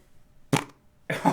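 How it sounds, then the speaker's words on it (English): A fart blown close to a live-stream microphone comes as two short, raspy bursts separated by a brief quiet gap, the second longer and fuller than the first. "farted on the microphone"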